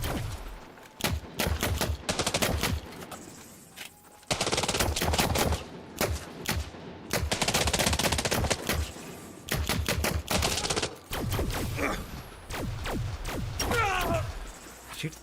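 Rapid bursts of automatic gunfire from combat in the space game Elite Dangerous, loud, repeated volleys over about fifteen seconds with short gaps between them and a few faint voices mixed in.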